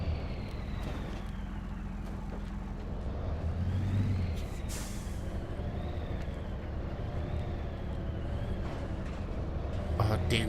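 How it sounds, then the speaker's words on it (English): A truck engine splutters and drones in the Spintires: MudRunner video game, a rough, steady low rumble with a brief surge, while a person talks over it. "And my truck's starting to splutter"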